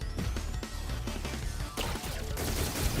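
Rapid bursts of gunfire from a powerful weapon in the robot brawler game Battlecore Robots, loud and continuous, with crashing impacts layered through the chaotic fight.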